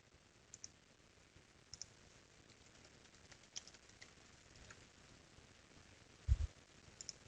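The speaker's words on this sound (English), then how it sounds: "I can click on the corresponding icon and click directly on the image to collect my observation" A computer mouse clicks sparsely and faintly while a user marks observations on imagery in ArcGIS Excalibur: single light clicks spaced a second or more apart over a quiet hiss, with one slightly heavier knock near the end.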